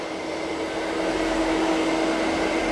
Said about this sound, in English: Now it's going back to the carpet. It's increasing suction.